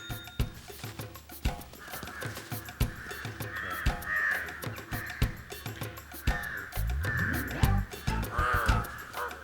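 Crows caw repeatedly in a close, busy cluster, harsh overlapping calls coming in irregular bursts with sharp knocks and rustles between them, with no talking.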